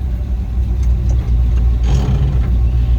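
A 1979 Chevy K5 Blazer engine pulling away in first gear, a loud steady low rumble close by, with no voices heard.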